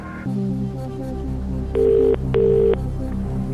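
A telephone ringing out on a Who Wants To Be A Millionaire phone-a-friend call, two clear electronic ring bursts at an even rhythm over a low studio music bed, with no talking.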